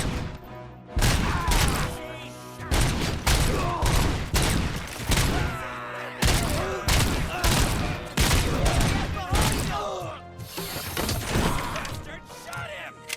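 Heavy gunfire in the Robocop: Rogue City video game, with dense bursts of shots, crashes and shattering that repeat in waves for the whole stretch, loud and close under game sounds and some shouting.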